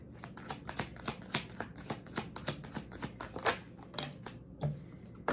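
Tarot cards being shuffled by hand, a quiet, close sequence of papery riffles and flicks in an irregular rhythm over several seconds, with no one speaking.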